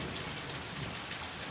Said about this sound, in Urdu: ابھی تقریباً 4-5 منٹ ہی ہوئے ہوں گے بارش شروع ہوئے